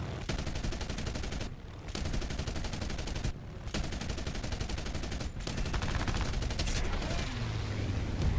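Aircraft guns in the video game War Thunder fire long, rapid bursts that sound loud and dense, broken by a few short pauses.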